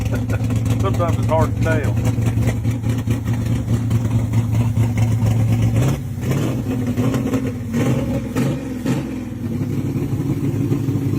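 An engine with a bad carburetor runs unevenly, a steady loud drone that shifts and surges when revved partway through, with people talking over it.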